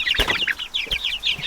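Backyard chickens cluck and chirp in a busy, overlapping chatter, with a couple of soft thumps from movement nearby.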